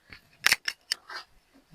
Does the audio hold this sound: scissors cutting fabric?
yes